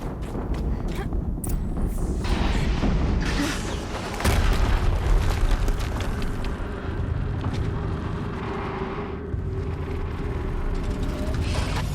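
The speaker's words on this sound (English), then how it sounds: "Another explosion." Deep booming explosions ring out in the Horizon Zero Dawn video game on PS5, one heavy blast standing out amid rumbling action and clattering footsteps, with dialogue heard around them.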